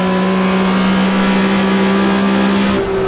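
A race car engine in Automobilista 2 screams at high, steady revs, then drops sharply in pitch near the end as it shifts up into fourth gear; loud and close with no voices.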